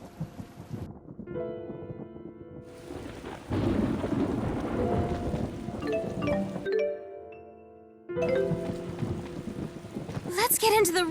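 A video game thunderstorm: rolling thunder and steady rain swell and fade in long stretches, mixed with music and in-game speech, cutting out briefly before returning.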